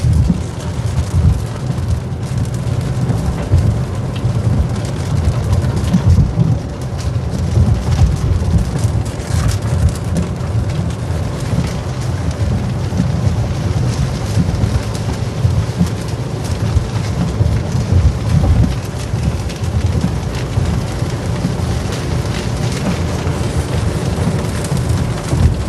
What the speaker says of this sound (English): Wild storm.